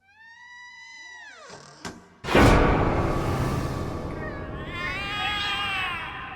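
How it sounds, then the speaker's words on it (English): Cats meowing in alarm in the video game The Cat Lady: a long wavering meow, a sharp whoosh, then loud harsh caterwauling and a high, wailing yowl trailing off, close and prominent. "The cats are alarming"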